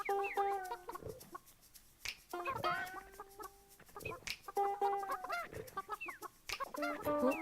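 Chickens in the video game Burly Men at Sea cluck and squawk in repeated bursts, with rising calls and short chirps close up over a quiet backdrop.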